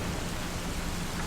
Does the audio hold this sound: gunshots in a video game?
no